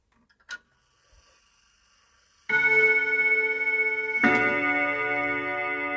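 A small Perfecta (Urgos) wall clock gives a faint tick or two, then rings two sustained chime strikes that start loud, overlap and hang in a long ringing decay, with no talking.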